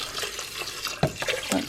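Water poured into a pot of long grain rice, a short close splashing and gurgling pour with a few distinct sloshes toward the end.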